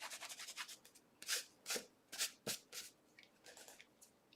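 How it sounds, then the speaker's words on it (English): Sponge dauber rubbed over a stamped card to lift excess heat and stick powder and gold, a run of close, soft brushing strokes in an uneven rhythm with no talk. "now I'm going to just rub over it again with that sponge dauber just to get any of that excess"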